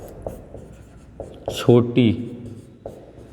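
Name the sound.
writing on a board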